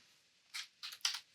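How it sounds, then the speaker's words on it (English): Typing an address on a computer keyboard for an Access Server admin login: a few quick, faint bursts of key clicks in short clusters against near silence. "So let's go ahead and type this address."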